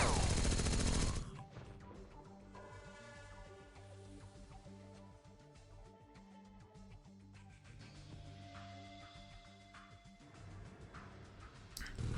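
Machine gun fire in the game X-Com Files opens with a loud burst, then falls back under a tonal background score, with another burst near the end.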